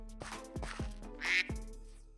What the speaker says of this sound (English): Well, it quacks like a duck.